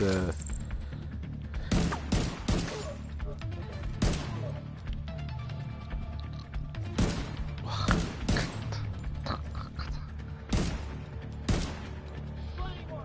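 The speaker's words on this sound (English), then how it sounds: "I'll just shoot everything but you" Bursts of automatic gunfire in The Division 2, several sharp loud volleys spaced a second or two apart with a steady game ambience between them, and a voice talking underneath.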